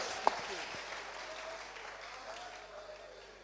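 A church congregation clapping and cheering, a broad wash of applause that starts full and slowly fades over a few seconds, with a voice speaking through it.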